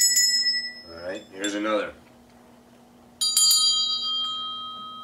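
Bell tones ring out at the start and again later as a bright cluster after a short pause, with someone talking between the rings.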